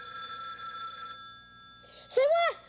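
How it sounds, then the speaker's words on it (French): A new telephone rings with a bright electronic trill for about a second, then a voice calls out loudly in French. "Je suis capable de répondre à notre nouveau téléphone."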